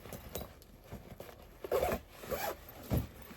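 A zipper on a bag is handled up close, with several short rasping zip strokes and soft rustles, fairly quiet and with no voices.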